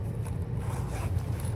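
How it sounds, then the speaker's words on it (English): A polyester bag's pocket being zipped shut, a steady close scraping zip running throughout with no voices. "Okay, and I'll zip that back up."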